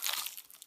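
Another bite into pizza with crunchy dough gives a short, close crackling crunch that fades quickly, with no talking over it.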